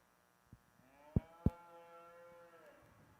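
Belted Galloway cattle low in a show ring, two or three short moos and one longer drawn-out call over a faint background hum, fairly close with no talking.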